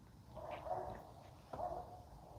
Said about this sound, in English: You hear the dog barking?